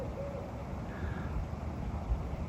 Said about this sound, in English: I've been listening to an owl make a few calls lately